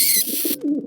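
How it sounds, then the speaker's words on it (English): Pigeons coo close by in short, soft, low rolling bursts after a brief hiss of outdoor noise. "Pigeons are eating crumbs near us."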